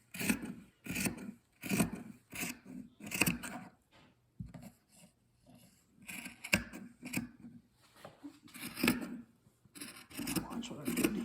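Scissors cutting fabric into strips for a rag rug, repeated rasping snips and rubbing fabric strokes in bursts with short pauses, close and moderately loud, with a voice talking intermittently.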